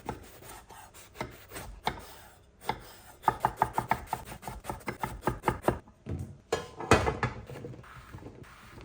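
Aubergine chopped on a board with a knife, a quick run of close, crisp knocks that comes in bursts, some even and rapid, with short pauses between.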